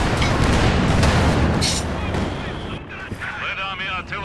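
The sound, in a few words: Red Army artillery firing in a video game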